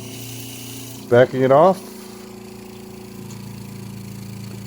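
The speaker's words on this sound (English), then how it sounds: "Turning on the pump." A Seaflo 42 Series water pump runs with a steady low mechanical hum throughout, briefly covered by a short spoken remark.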